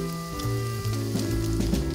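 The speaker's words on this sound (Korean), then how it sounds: "지글지글 지져주고요." Mugwort pancake batter sizzling steadily in a hot oiled frying pan, a continuous close crackle of frying with faint background music tones running throughout.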